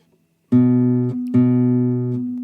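Two loud, hard-plucked classical guitar notes, each ringing with a slight metallic fret-buzz rattle, close and clear with nothing else heard.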